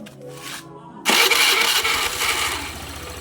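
A motorcycle engine cranks and starts after a quiet lead-in, then runs loud and rough at close range; the bike has an erratic voltage fault.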